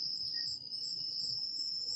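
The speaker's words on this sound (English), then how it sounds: "I got crickets where I'm at, y'all." Crickets chirp outdoors in a steady, shrill, continuous trill that stays loud and close throughout.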